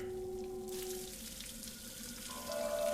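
In the video game Scratches, running water pours into a chapel drain, a steady hissing splash with faint tonal hums underneath, growing slightly louder toward the end.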